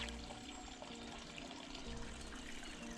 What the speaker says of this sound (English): I'm just going to pop that hose underwater just to take that noise away